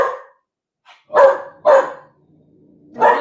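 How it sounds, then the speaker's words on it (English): A dog barks in three sharp, loud, close barks, spaced apart with quiet gaps between them and no talk. "She barks at shadows and it's getting dark."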